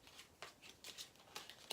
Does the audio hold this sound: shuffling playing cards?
yes